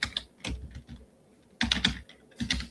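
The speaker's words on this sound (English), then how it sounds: "Let me type that in and copy and paste that" Bursts of clattering keystrokes on a computer keyboard come in three quick clusters separated by short pauses, close and moderately loud with no talking.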